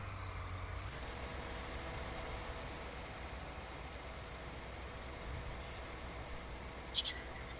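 Tractor engine running in a farming video game, an 8R model, a steady low idling drone that continues throughout with a couple of brief clicks near the end; a voice talks faintly over it.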